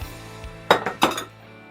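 A metal cooking pan clinks on the stove top in a kitchen as seafood stew is started, two bright metallic clanks close together, loud and near, with no talking.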